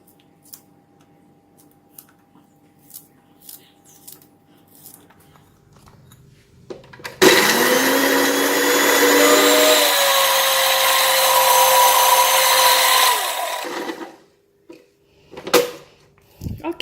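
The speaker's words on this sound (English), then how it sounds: "Okay, done with all the blending" Electric blender running loud and steady for about six seconds as it purees garlic and shallots very fine, with a rising motor whine, after quiet kitchen handling noises.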